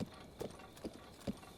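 Horse hooves clip-clopping in a video game, four evenly spaced hoof falls at a slow walking pace, moderately close over a faint background hiss.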